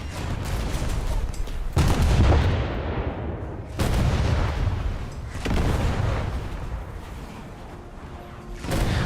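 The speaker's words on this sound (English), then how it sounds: "what I see firing are not the main guns, those are the secondaries" The secondary guns of a cruiser fire in World of Warships, booming and close, with heavy blasts about every two seconds. Each boom rolls off into a rumbling decay before the next shot.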